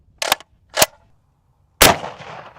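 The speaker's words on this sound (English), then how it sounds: "Moving up to the Gold Scar, shooting around a 308." Three sharp, loud gunshots from a Gold Scar rifle firing .308 rounds. Two quick close reports come first, then after a pause a third shot that rings out with a longer decaying tail. Nobody talks.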